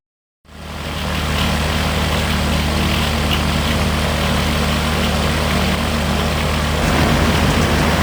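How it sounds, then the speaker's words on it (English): An AirCam aircraft heard from on board in flight, with a loud, steady propeller and engine drone that starts abruptly and holds constant, a broad roar with strong low rumble throughout. "And the AirCam aircraft is just the way to see it."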